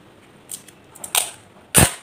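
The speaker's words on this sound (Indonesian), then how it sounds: "Dan kamu lilitkan pada balon yang sudah menutupi bagian bawah botol." Large adhesive tape being pulled and wrapped around a balloon stretched over the bottom of a bottle, heard as three short, sharp tearing crackles that grow louder, with quiet gaps between them.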